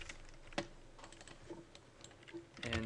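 Keys clatter quietly on a computer keyboard in an irregular run of close, light clicks, with a slightly louder tap near the start and a quick flurry at the end; no one speaks.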